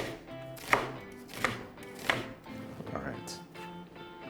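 A knife slices onions on a cutting board, landing in three distinct evenly spaced chops with softer cuts between them, while someone speaks briefly.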